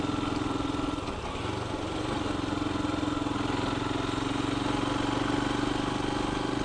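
A Royal Enfield Himalayan motorcycle engine runs steadily while riding, a close, continuous low drone with a strong, even hum that holds constant throughout, with no talking over it.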